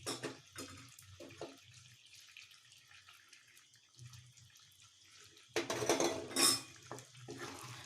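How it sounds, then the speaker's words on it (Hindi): Yogurt stirred into chicken korma in a cooking pan: scattered utensil scrapes and clinks against the pan, quiet with pauses, ending in a louder burst of metallic clatter. "दही को भल भाव मिसाई नबा।"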